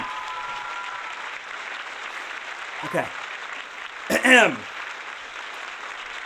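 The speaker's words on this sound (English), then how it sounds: "Let's hear some applause." Studio audience applause on a livestreamed talk show, a steady wash of clapping running throughout at moderate level, with a couple of brief spoken interjections over it.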